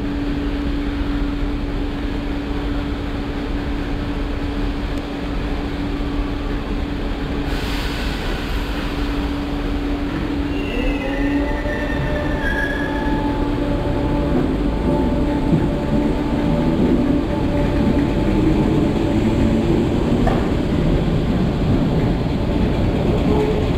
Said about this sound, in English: Train is for Liverpool Central.